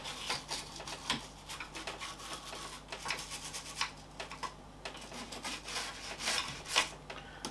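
Small toothbrush scrubbing dust from inside a PC, a steady, close, dry rubbing and bristle scratching with irregular strokes and light knocks, no talking.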